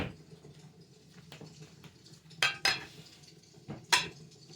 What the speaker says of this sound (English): I'm going to slice up my strawberries really quick